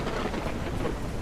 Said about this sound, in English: I hear thunder